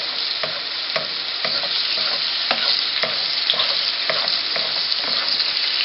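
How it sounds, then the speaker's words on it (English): A steak frying in a pan while being basted: a steady, loud sizzle with regular scraping strokes about twice a second, and no voices. "So I'll baste this, and I'll cook it for a further 3 minutes like this."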